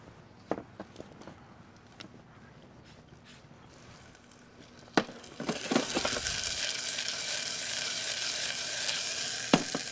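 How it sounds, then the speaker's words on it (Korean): Onions sautéing in a hot frying pan, a steady loud sizzle that begins about halfway through after a few light clatters, then holds continuously with occasional stirring knocks. "팬이 어느 정도 달궈진 뒤에 양파 넣으셔서"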